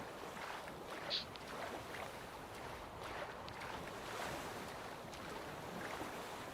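Water in The Witcher 3: Wild Hunt washes and laps as a faint, continuous, wind-blown rush of waves with soft splashes, distant and low in level throughout.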